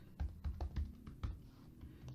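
Keys on a computer keyboard are struck in an irregular run of close, distinct clicks, about a dozen taps with brief pauses and no voices over them.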